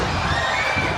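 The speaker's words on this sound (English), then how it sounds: "the crowd here is electric" A wrestling arena crowd roars during an Xplosion match, a dense continuous wash of cheering and shouting that stays loud and steady throughout.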